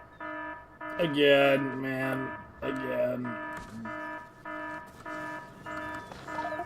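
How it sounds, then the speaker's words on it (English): A repeating electronic alarm tone blares in Factorio during a biter attack, pulsing in a steady rhythm of rising and falling beeps, with a voice speaking over the first few seconds. "What's the alarm blaring?"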